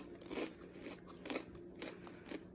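Crunchy hash brown with onion bitten into at breakfast, several crisp close crunches repeating roughly every second with no talking.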